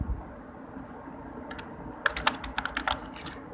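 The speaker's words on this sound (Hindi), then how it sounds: "तो हम लिख लेते हैं यहाँ पे कमांड" Someone types a command on a computer keyboard to list the files in a directory: a quiet lead-in, then a quick burst of crisp, irregular key clicks, close and clear, with no talk.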